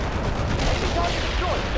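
Bunker buster air strike slamming into a building in the World in Conflict strategy game, a dense rumbling barrage of blasts and gunfire-like cracks sustained across the moment, with battlefield chatter mixed underneath.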